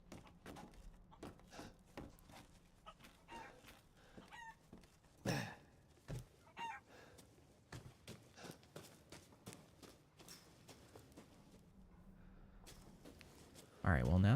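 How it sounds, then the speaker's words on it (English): Chickens cluck faintly and intermittently in the Resident Evil Village video game, scattered against footsteps and clattering game sounds, with someone talking over much of it. "I hear the chicken."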